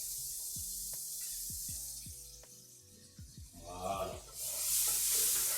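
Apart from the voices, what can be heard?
onions sizzling in a hot frying pan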